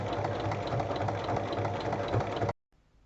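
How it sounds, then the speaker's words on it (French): A sewing machine runs steadily along a zipper on a fabric bag, a fast, even mechanical whir and rattle for about two and a half seconds before stopping dead. "Pour terminer, on va piquer dans la largeur, le long de la fermeture à glissière et dans la largeur"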